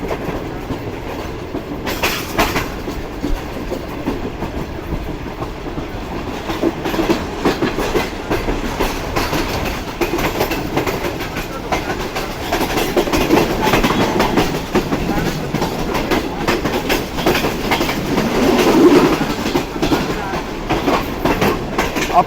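Fast passenger safari train running on rails through the Thar desert, a continuous loud rumble with rhythmic clickety-clack of wheels over joints, swelling slightly toward the end, no talking.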